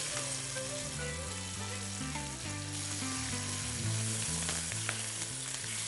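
Curry leaves hit hot oil in a home kitchen pan, giving a continuous crackling sizzle that runs the whole time under a layer of background music.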